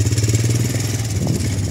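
Steady, close rumble of a running farm tractor engine while raking hay in a field, a low throbbing pulse that stays loud and even throughout.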